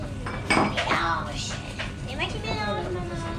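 Sugar and flour being stirred in a mixing bowl, with utensils clinking against the bowl in short irregular taps while a child and an adult talk over it.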